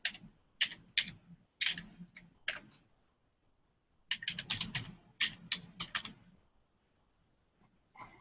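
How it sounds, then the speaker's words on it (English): Bursts of typing on a computer keyboard as an email address is entered, clicky keystrokes in quick clusters separated by short pauses, close and clear with no talk. "I'll type the email address right in so that you can see it in the chat window."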